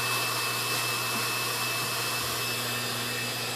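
A banner heat welder running steadily while hemming a banner, giving a loud, constant blowing hiss and hum like a powerful hot-air blower, unbroken throughout with no speech.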